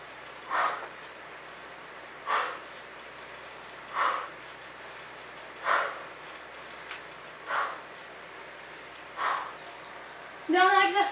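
Heavy rhythmic breaths during a home HIIT full-body workout, sharp exhalations repeating about every two seconds, close and fairly loud, with a brief rustle at the end.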